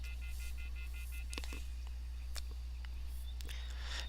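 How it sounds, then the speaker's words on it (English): Soft electronic beeps from a cell phone keypad being dialed in the video game Everlasting Summer, a series of short tones at irregular intervals over a steady low hum. "I took out my cell phone and dialed the first number from my contacts list."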